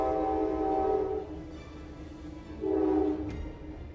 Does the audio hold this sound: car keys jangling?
no